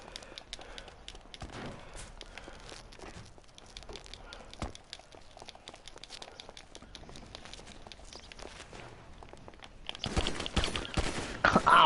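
Gunfire in the video game GTA 5 Online: scattered sharp shots and bursts through a quiet stretch with footsteps, building into denser, louder rapid fire at the end.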